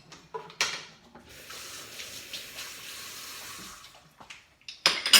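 Tap water runs steadily into a sink to wash lemons and meat, a continuous close hiss lasting a few seconds between clinks and knocks of handling at the start and end.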